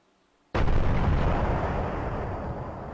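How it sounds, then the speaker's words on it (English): A sudden heavy explosion as a target is hit in the DCS flight simulator, bursting from near silence into a loud, broad roar that rumbles on and slowly fades. "Oh, something blew up. I think I killed another target."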